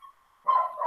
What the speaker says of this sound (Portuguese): Meu Deus, esse cachorro.